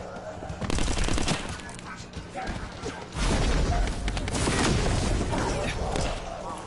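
Gunfire in The First Descendant video game: heavy bursts of rapid automatic shots and booming impacts, loud and close, with a voice talking over the shooting.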